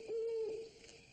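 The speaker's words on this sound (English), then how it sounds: "You suppose that owl knows anybody we know?" A single owl hoot, a short steady tone at night, moderately close but quiet, fading out afterward.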